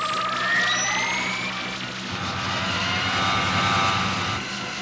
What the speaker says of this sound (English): Emergency takeoff.